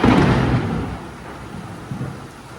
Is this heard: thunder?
yes